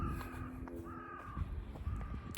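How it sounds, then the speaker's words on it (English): A bird calls outdoors in Scotland with repeated harsh, cawing notes spread across a couple of seconds, moderately close over a rough, noisy background. "I'm sure that blackbird's following me."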